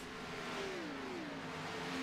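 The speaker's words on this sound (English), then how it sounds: "1 car going around." Race car engine droning at steady high revs in a superspeedway racing video game, a continuous near mid-pitched tone with a slowly sliding pitch and no talk.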